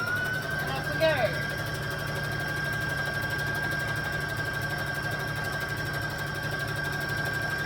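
A domestic sewing machine running flat out at its top speed while stitching fabric Christmas shorts, with a steady fast whirring drone and a high steady tone throughout, close by and fairly loud.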